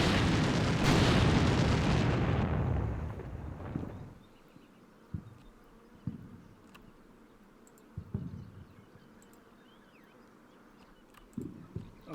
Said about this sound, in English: just going to check how long these bombardments are going to last. So they're firing for another 2 minutes